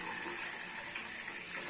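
Tap water gushes steadily over boiled eggs in a kitchen, a close, continuous rushing splash with no talk.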